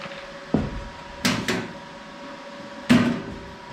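Small hinged door on an R-Tech Pro Mig 250 portable inverter MIG welder clicking shut, a few short knocks and clunks close by in a quiet space with a faint steady hum beneath.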